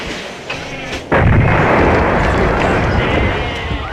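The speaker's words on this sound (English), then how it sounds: "But rocket artillery can hopefully kill something" Rocket artillery fires in Civilization 5, a sharp launch blast followed by a loud, sustained rumbling roar that carries on to the end.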